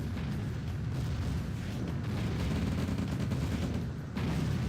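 Dense, continuous battle noise from a Red Alert real-time strategy match, with tanks, infantry and artillery firing together in a steady rumbling roar of overlapping shots and blasts.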